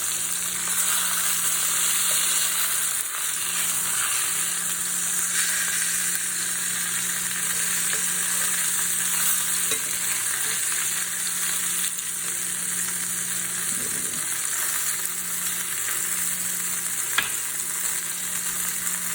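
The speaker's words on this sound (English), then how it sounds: "So we're turning them over, and we're not going to worry as much about browning this other side." Flour-dredged chicken thighs fry in a pan with a steady, loud sizzle and crackle that holds throughout, broken by a few faint clinks and shifts of the meat, with no talking.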